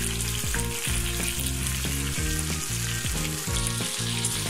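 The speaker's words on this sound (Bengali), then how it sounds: "এখন এক পাশ মুচমুচে করে ভেজে নিলেই আমার মাছটা ভাজা হয়ে যাবে।" Pomfret fish frying in a pan, one side already crisped and flipped: loud, continuous close-up sizzling and crackling of hot oil with rhythmic spatula scrapes and stirs, no talking.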